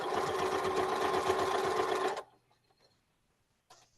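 A sewing machine stitches around a hole patch on a quilt, running steadily and loud at close range for about two seconds, then stopping abruptly into near silence before a brief faint restart.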